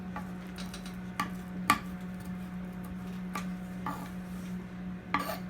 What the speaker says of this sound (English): we're going to take all the rest of the herbs that we've got here, parsley, basil, and the greens of the green onions. I'm going to chop these up a little bit.